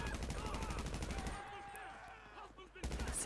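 A special carbine MK2 fires in a video game, a rapid automatic burst of loud shots that breaks off and then starts again near the end.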